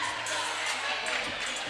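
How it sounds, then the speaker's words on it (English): Broad crowd noise filling a high school gymnasium before a basketball game between the Booneville Bearcats and Elkins Elks, a steady wash of chatter with scattered shouts and cheers, mid-distance and continuous. "Got a pretty decent crowd here, folks, at Bearcat Gymnasium."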